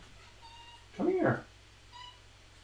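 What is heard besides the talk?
cat meowing outside the door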